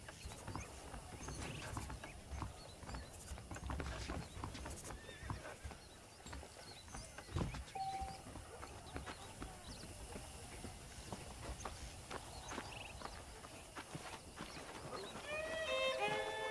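A horse in the video game Red Dead Redemption gallops with a steady clip-clop of hooves and lets out a neigh, all set against a busy background of game sounds.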